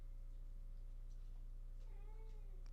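A cat meows twice, faint and somewhat distant, the second call a longer drawn-out wail near the end, over a steady low electrical hum with no talking.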